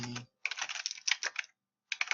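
Bursts of fast, close typing on a computer keyboard as notes are written up, with clicks in quick clusters split by a short silent pause, no voices.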